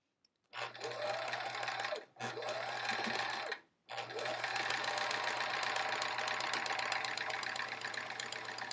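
A sewing machine stitches a quilt block in close, steady whirring runs, pausing twice briefly before a longer continuous stretch, loud and mechanical with a low motor hum underneath.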